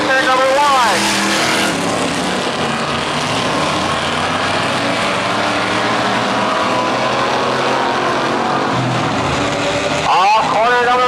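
Pure stock race cars roar around a short oval track in a steady, loud engine drone with passing pitch sweeps, while an announcer talks over the action.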